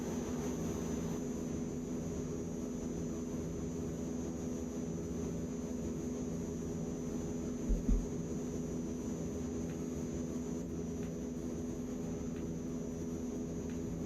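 A steady, droning airplane engine hums in a flight simulator game, with an AzurPoly aircraft holding a constant tone for the whole stretch and a brief soft bump near the middle.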